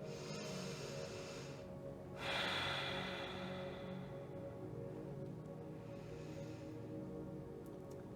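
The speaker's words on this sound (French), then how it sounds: "Inspire et expire." Slow breathing in and out during a yoga session, soft airy breaths rising and fading in two gentle waves over a low steady background.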